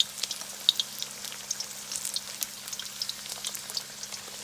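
Chinese takeout-style egg rolls deep frying in hot oil, a soft continuous bubbling crackle with scattered small pops, fairly quiet and even, no voices.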